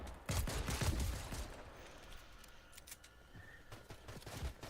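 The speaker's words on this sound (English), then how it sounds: "I like the way that these guns are actually shooting" Gunfire in a video game, a dense burst of rapid shots up front that thins into scattered distant pops over a low background hum.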